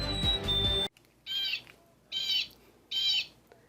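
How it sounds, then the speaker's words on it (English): A chickadee calling in an urban setting: three harsh, buzzy notes repeated at an even pace and fairly close, following a brief burst of music at the start. "That's a chickadee."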